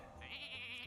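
A sheep bleats once, drawn out and wavering, from the Polymorph spell in the Hearthstone card game, heard clearly and alone over a low game backdrop.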